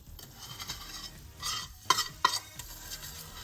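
Candied yams with brown sugar are mashed and stirred in a pot, giving soft wet squelches and a few sharp scrapes and clinks of a utensil against the pan.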